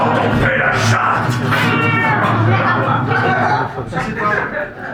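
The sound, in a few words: person imitating a cat meowing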